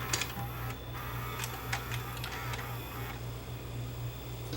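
A Sony SLV-R5 S-VHS VCR threads a tape with faint mechanical clicks and ticks over a steady low motor hum, the ticking irregular and close.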